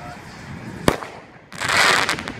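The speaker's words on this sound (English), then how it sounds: "Got the medium-sized Space Jam rocket." A medium-sized Space Jam sky rocket firework: a sharp crack, then a loud sustained crackling hiss as it bursts, with voices faint in the background.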